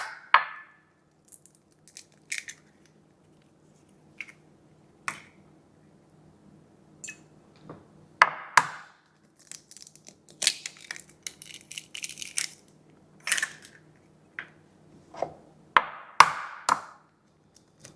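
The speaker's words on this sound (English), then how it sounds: "why do you crack your eggs into something separate first" Eggs cracked one after another into a separate bowl for a from-scratch pumpkin pie: sharp, close shell taps and cracks come in scattered bursts over a quiet kitchen, with faint wet splats between them and no talking.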